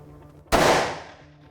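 A single sharp report from a large-calibre gun fired at steel silhouette targets outdoors, a loud crack with a short decaying tail, standing alone with no talk.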